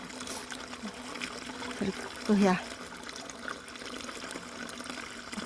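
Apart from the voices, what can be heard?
milk being poured through a strainer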